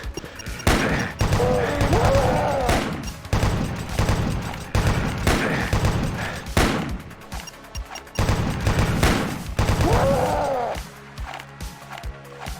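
Rapid shotgun blasts in the video game Doom, loud repeated booms with chunky pumping between shots, fired in quick succession almost continuously, with brief quieter gaps before the barrage resumes.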